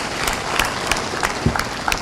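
An audience claps in a lecture setting, a continuous close patter of applause from a crowd with a few sharper individual claps standing out, and no one speaking over it.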